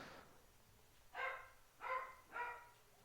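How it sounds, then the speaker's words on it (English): Elwood the dog barks three times in an even rhythm, loud and close, with a fainter sound just before the barks and no talk over them. "Elwood loves to bark."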